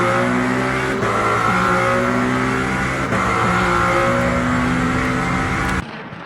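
Race car engines roar in Le Mans Ultimate as a Lamborghini and a Peugeot battle side by side, a loud sustained drone with gear shifts and pitch steps, then a sudden drop at the end.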